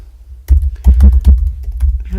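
Keystrokes on a computer keyboard during a live online reading session, a loose cluster of close clicks and taps in uneven bursts over a low background hum.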